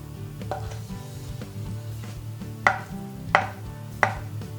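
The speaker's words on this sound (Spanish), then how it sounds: "Lo cortamos en trocitos" A knife strikes a board in a quick series of chops, cutting black olives into small pieces, a few sharper hits standing out near the end, with faint sizzling behind.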